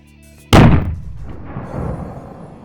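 A single 9mm gunshot fired into meat cracks sharply and loudly, then decays into a long rumbling echo across open ground, with no voices.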